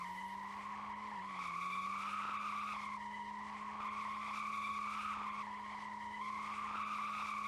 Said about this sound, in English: The BMW is going to go for victory slides